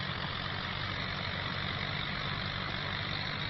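An aging tractor engine in Farming Simulator 25 runs in a steady, even drone with no breaks, heard alone and fairly close throughout, out on a farm during ploughing.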